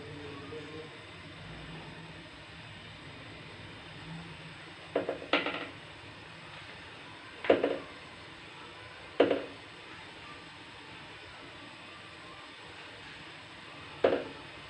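Chicken masala koftas dropped one at a time into hot oil in a kitchen pan, four separate splashy sizzling bursts spaced a few seconds apart over a quiet, steady background hiss.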